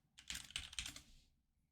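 Quick bursts of typing on a computer keyboard, a short run of close, soft key clicks that fades out after about a second, with no voices.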